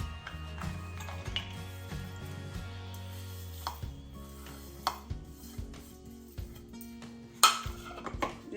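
Grated coconut and other ingredients are crushed for baby kozhukkatta, with irregular clinks, knocks and grinding scrapes from a utensil, some sharper hits standing out above a low steady hum.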